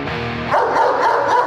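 Fraser, a guard dog, lets out loud, aggressive barks and growls at close range, sounding tense and forceful with no talk over it.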